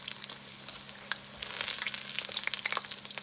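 Egg rolls fry in grease at about 350 degrees in a wok, giving a steady close crackle and sizzle with popping bubbles that grows busier and louder halfway through.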